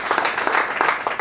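A church congregation claps and cheers together in a dense, steady burst of applause that fills the room without a break.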